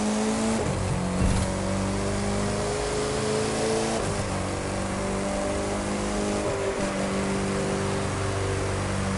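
In The Crew 2, the game's most expensive car screams through a corner at around 193 mph, its engine a sustained high-revving drone with shifting pitch and brief dips, loud and continuous with no talk.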